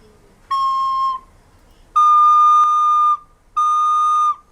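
A recorder sounds a high C note three times, each held for about a second, bright, piercing and whistle-like with brief gaps between.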